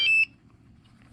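A DJI Mavic Mini remote controller gives a single clear, high-pitched electronic beep lasting about a quarter second as it powers off, followed by near silence.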